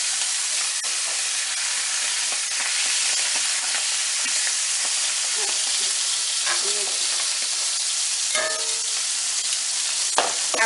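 Sausage sears in hot oil in a pan, a loud steady sizzle and spitting hiss running throughout with occasional sharper pops and crackles, heard close up with no talk.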